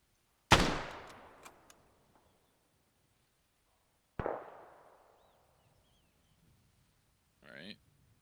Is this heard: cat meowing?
no